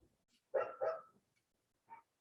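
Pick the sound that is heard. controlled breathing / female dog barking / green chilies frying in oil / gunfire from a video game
female dog barking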